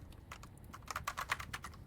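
Rapid, uneven keystrokes clatter on a computer keyboard, close and fairly quiet, with a small burst of quicker taps near the end and no voices.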